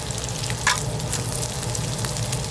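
Meat searing in a hot pan in a Western-style restaurant kitchen, its sides browned, giving a steady close sizzle and crackle with a brief sharper spit near the middle, no talking.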